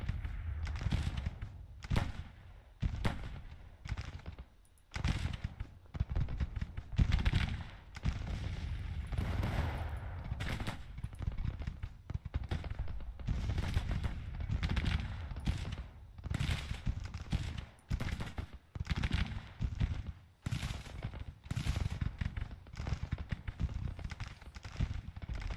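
Confederate infantry volleys in the Grand Tactician strategy game, a recreated Gettysburg battle, heard as repeated rolling bursts of distant musketry in an irregular rhythm, fairly quiet and sustained throughout.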